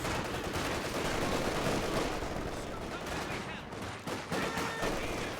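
MG42 machine gun fire in a World War II strategy game blends into dense, continuous rattling gunfire, a loud unbroken fusillade of shots with battle noise filling the background.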